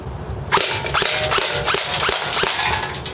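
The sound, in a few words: ICS Sig 552 airsoft gun firing semi-automatic at a can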